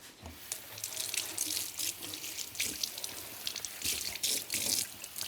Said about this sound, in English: We're going to take these belts and we're going to get them wet with water.